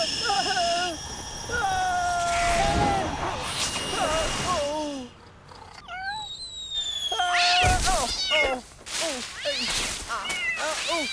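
A cat meows repeatedly in rising and falling cries, some drawn out into wails, loud and close, with gasps and voice sounds mixed between the calls.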